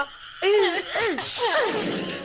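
Fake frogs croaking in a cartoon, a few quick warbling, rising-and-falling croaks in succession, close and fairly loud, with no talk over them.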